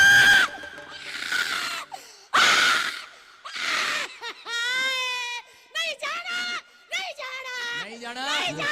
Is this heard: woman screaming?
yes